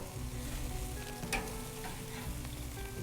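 Pork chops sizzling on an outdoor grill, a steady close crackle and hiss with a few faint clinks of tongs, continuous and unbroken, no voices.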